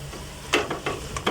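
Kale and beef frying in a pan, with a soft background sizzle broken by several quick scraping, clattering stirs of a utensil against the pan, no voices.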